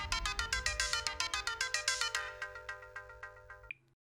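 A telephone rings in a fast electronic trill, repeating bursts about every quarter second for nearly four seconds, loud and close, then cuts off abruptly with a short click; no one speaks over it.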